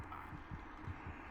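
Heartbeat sound effect from the horror game Among the Sleep, low muffled thumps pulsing at a steady rhythm under a constant ambient hum, with no voices.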